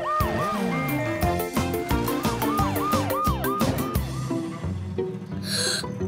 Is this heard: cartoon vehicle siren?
yes